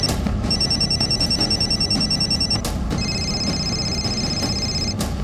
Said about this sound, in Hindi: ये वो मोबाइल फोन हैं जो 9 जून की रात यानी हिंसा से पहले की रात प्रयागराज के अटाला में रात भर बजते रहे।